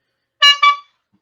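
A car horn gives two short, loud honks in quick succession, standing alone against silence.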